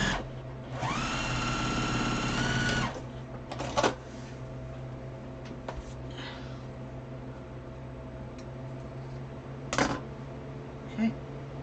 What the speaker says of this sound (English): So I'm just going to sew this on here